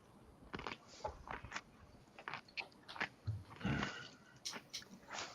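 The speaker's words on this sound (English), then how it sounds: "I heard it go crunch. That was a cracker." Close, quiet crunching and chewing on a cracker, irregular bites with wet mouth sounds and breathing, no talk.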